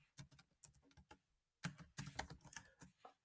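Bursts of quick clicking keystrokes on a computer keyboard while a comment is typed into Google Docs, close and crisp with a brief pause partway through, no voice.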